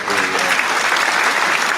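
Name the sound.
audience applause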